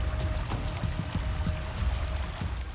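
The Shalmala river flows in a steady, broad rush of water that stays constant throughout, with faint splashes and gurgles on top and no voices.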